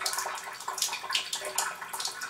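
Water streaming from a Chanson Miracle PL-B702 water ionizer into a container, a steady close splashing rush with small rhythmic spatters and no speech.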